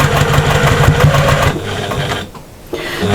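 Sewing machine stitching the seam of a patchwork shopper bag at about a 2.4–2.5 stitch length with regular thread, a steady close whirring run that eases off briefly near the end before restarting.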